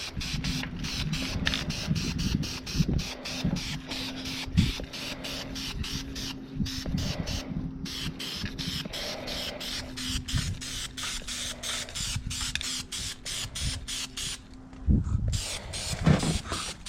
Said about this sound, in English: time for some high build primer here